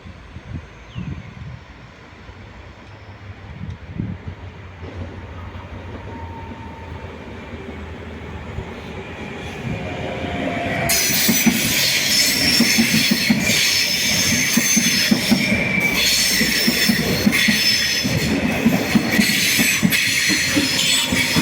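Trains move through Padova railway station, a steady rumble of railcars with wheels squealing loudly and continuously in the second half, rising from a quieter platform ambience.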